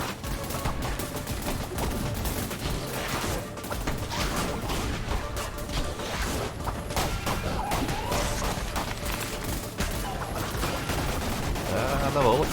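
Constant gunfire and flying bullets in the video game Cult of the Lamb, a dense loud barrage of shots and impacts running without pause over game music.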